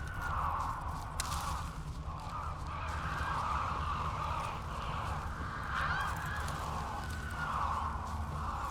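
Birds cawing in The Witcher 3 video game, a steady chorus of harsh calls over constant ambient wilderness noise, with no one talking.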